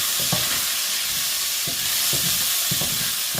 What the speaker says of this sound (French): vous faites revenir vos oignons.